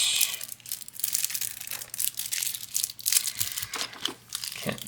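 The plastic pouch of a Desert Bloom Commander card deck from Outlaws of Thunder Junction crinkles and tears up close, a steady loud rustling with no pauses.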